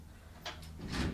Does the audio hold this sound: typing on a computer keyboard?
no